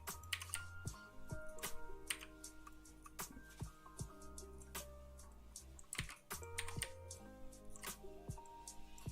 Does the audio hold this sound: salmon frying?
no